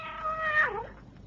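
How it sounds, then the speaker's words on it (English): An old tomcat in a radio drama gives a single loud, drawn-out meow that falls away at the end, heard close and alone. "Sandy, your uncle's old tomcat."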